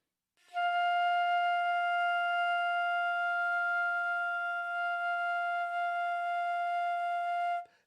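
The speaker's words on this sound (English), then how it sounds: "I'm going to play an F." A flute holds a single sustained F note, clear and steady for about seven seconds, alone with no other sound.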